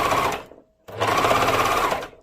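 An overlock serger stitches a trouser-skirt seam in two loud, steady bursts of whirring, separated by a short pause, with no talking.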